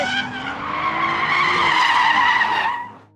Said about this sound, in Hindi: सिर्फ ड्राइव ही नहीं, ड्रिफ्ट भी करेंगे।